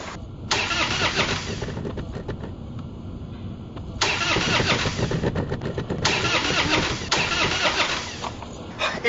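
A car engine cranks repeatedly in three long grinding bursts with short pauses between, the starter churning loudly and close but the engine never catching.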